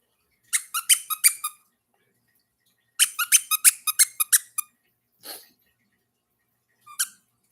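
A dog named Megster repeatedly squeaks a squeaky toy in a barbershop: two quick bursts of rapid high squeaks, then a couple of isolated squeaks, fairly close and with no talking.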